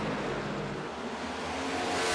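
Steady engine drone of a NASCAR Next Gen race car in iRacing at Homestead-Miami Speedway, sustained and fairly loud throughout as the car gets loose mid-corner.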